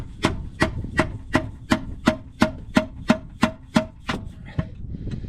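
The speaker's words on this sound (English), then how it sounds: "I'm using a medium chisel, but you want to make sure you use the rounded side towards the upper oil pan." A medium chisel being tapped into the seam of an oil pan on a 2012 Jeep, a dozen evenly spaced sharp knocks ringing close and loud in steady rhythm before trailing off into softer scraping.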